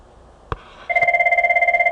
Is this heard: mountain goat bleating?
no